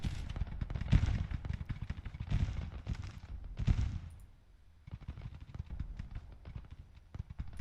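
Rolling musket volleys and crackling gunfire in a Grand Tactician Civil War battle at Gettysburg, dense bursts rising and fading over several seconds, then thinner scattered shots, with no voices.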